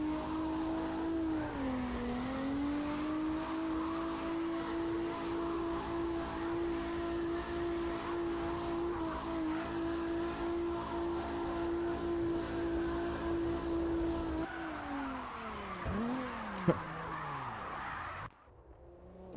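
Racing game car drifting with a steady engine drone and a sustained tire squeal through long slides, then pitch dips and swoops as the car shifts and the engine revs near the end.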